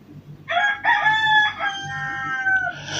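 A rooster crows loudly nearby, a long multi-part call rising and then holding a strained, wavering note, over faint low background hum.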